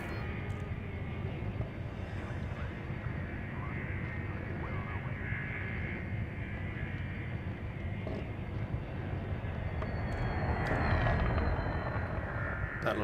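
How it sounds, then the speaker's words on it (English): A Viper spaceship from Elite Dangerous flies past as a steady engine drone that swells into a louder whoosh near the end, with no one talking. "That little ship that flew by was a Viper."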